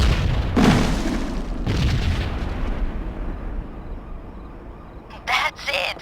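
Explosion blasts in the video game Perfect Dark Zero, a subway level: two heavy booming bursts in the first two seconds rolling into a long low rumble, then a couple of sharper bursts near the end.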